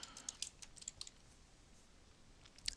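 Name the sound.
typing on a computer keyboard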